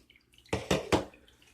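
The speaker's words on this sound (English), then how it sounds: "The siphon breaks." An aquarium siphon breaking as the tube is yanked out, giving three quick, distinct watery gurgles and drips close by against a quiet background.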